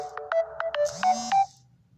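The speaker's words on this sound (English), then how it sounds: "I forgot to put the phone on do not disturb" A phone ringtone goes off indoors, a short repeating electronic melody of bright tonal beeps that plays loudly for about a second and a half and then cuts off, with no one speaking over it.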